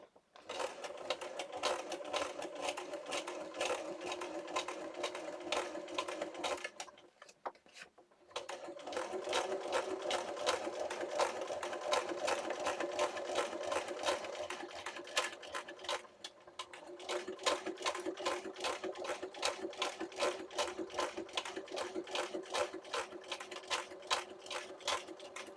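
Sewing machine stitching a paper booklet for a junk journal, a steady rapid clatter of needle strokes running loud and close, pausing briefly twice before resuming the same even rhythm.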